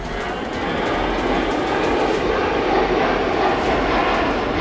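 A Sukhoi Su-34 jet flying past: a loud, continuous broadband roar of jet engines that holds steady throughout with no talking.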